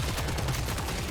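Continuous automatic fire from a SCAR rifle in the video game Killing Floor 3, a steady, fairly thin stream of rapid shots held at even loudness for a moment.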